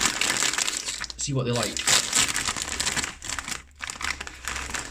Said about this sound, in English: So let's open the bag,